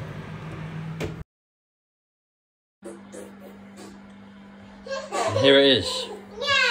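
Children at play in a home kitchen, shrieking and chattering in the background after a short silence, with an adult voice speaking briefly at the start.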